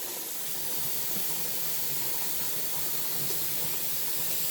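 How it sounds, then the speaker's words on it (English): A home pressure canner venting hot steam, a steady broad hiss that holds unbroken and fairly loud throughout, with no voices. "my canner is now venting in a V shape"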